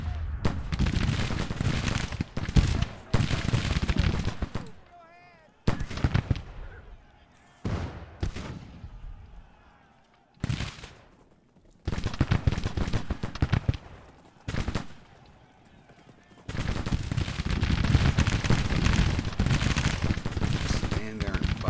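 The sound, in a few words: gunfire in Grand Tactician: The Civil War video game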